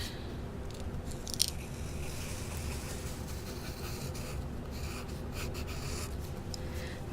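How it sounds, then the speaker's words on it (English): Scissors cutting through paper along a traced Easter egg outline, a steady close crunching and snipping texture that runs continuously with small sharp snips scattered throughout. "So I'm going to cut"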